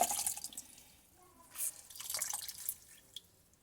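Water drips from a rinsed, freshly mordanted cotton fabric set beside a washing tank, a soft irregular patter of small droplets, faint and close, with a couple of slightly louder splashes.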